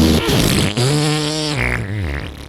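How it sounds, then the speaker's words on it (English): Fart sounds played back on a podcast, one long, loud, wavering blat lasting over two seconds that drops and bends in pitch, close and alone with no talking over it. "I feel like you hear all these farts."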